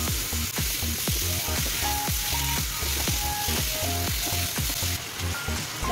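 Beef pieces frying in cooked spice paste for rendang, a steady close sizzle broken by regular scraping strokes of a spoon or spatula stirring the pan, with no voices.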